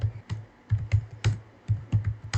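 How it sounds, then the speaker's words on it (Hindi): Computer keyboard keys, Tab and Enter, pressed in an uneven rhythm of about ten quick, close clicks with short pauses between them, with no voices. "फिर कीबोर्ड से टैब प्रेस करेंगे"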